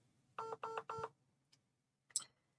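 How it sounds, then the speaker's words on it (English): A station telephone keypad gives three quick, clear dialing tones in an even rhythm, followed by a couple of faint clicks and a brief chirp, all close and with no talk. "just ignore that phone"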